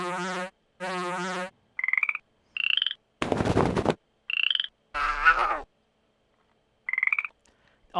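Croaking from a frog in a video game memory test: short, loud, separate calls with silent gaps between them, mixed with a few other game sound effects.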